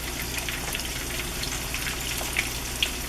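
Buttermilk chicken fingers fry in hot grease in a pan with a steady close sizzle and scattered crackles and pops, no talking over it.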